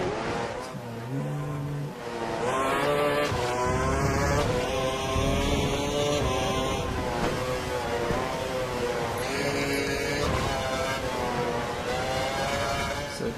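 Formula 1 car on a flying lap at the German circuit in F1 2012, the engine screaming loud and close through repeated upshifts and downshifts, rising and falling pitch sustained throughout.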